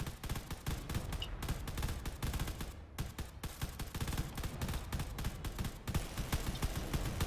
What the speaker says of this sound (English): they're firing away at this Vega over here